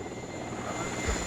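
Rocket helicopters in the WARNO strategy game rumble with a steady, droning rotor and engine wash, a dense low hum holding for a brief moment with a slight swell near the end.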